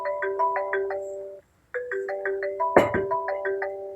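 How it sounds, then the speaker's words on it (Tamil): A phone rings with an incoming call, playing a repeating electronic melody of bright chiming notes. There is a brief gap, then the tune starts again, and a single sharp knock or clatter sounds partway through. "ஃபோன் பண்றாங்க."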